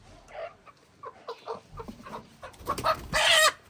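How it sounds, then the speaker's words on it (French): A black rooster clucking in a ritual setting, a few short throaty calls building to a louder, harsher burst near the end, close by with some background noise. "Et le coq-ci, c'est le coq noir que ça prend."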